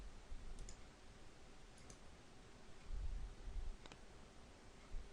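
A few faint, sharp mouse clicks at a computer running controller software, spaced irregularly two or three times, over a quiet room hum with soft handling noise and no talking.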